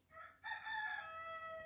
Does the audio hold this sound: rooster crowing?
yes